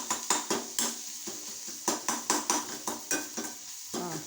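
A metal spoon stirs and scrapes through egg frying with onion and tomato in a pan, sharp repeated clinks and taps in an uneven rhythm over a soft sizzle, close and fairly loud, with no voices.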